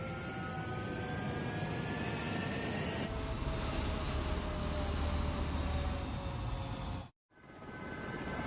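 Jet fighter engine roars steadily during takeoff in the video game Ace Combat 7, loud and continuous with a rising whine, cutting out abruptly near the end before resuming.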